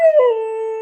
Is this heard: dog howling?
yes